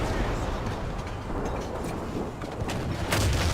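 Heavy, rumbling cannon fire from an SU-5-1 self-propelled gun in War Thunder, a dense continuous roar of blasts and engine noise with a louder impact near the end.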